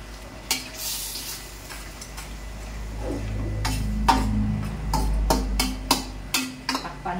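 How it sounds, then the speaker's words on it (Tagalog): Banana pith being dropped into a simmering pot of native chicken tinola, producing a series of clattering knocks and soft sizzling stirs up close, with no voices. "At ilahok natin yung ubod ng saging."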